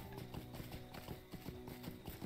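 A goat mount's hooves in the online game LOTRO clatter in a quick, steady, repeated rhythm over a game music background. The sound is faint and continuous.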